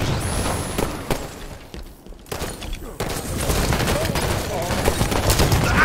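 Gunfire and a grenade blast in a Forge map 4v4 Slayer match, with rapid bursts and booming impacts crowding together across the whole stretch, loud and dense, briefly dipping before the shooting resumes.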